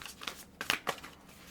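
Tarot cards being shuffled by hand, giving a few soft papery riffles and flicks in short bursts, close and fairly quiet, with no talking.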